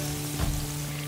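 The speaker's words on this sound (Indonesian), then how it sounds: "Selanjutnya goreng jamur di dalam minyak panas." Breaded mushrooms frying in hot oil give a steady crackling sizzle with a brief louder burst in the middle, close by and without talk.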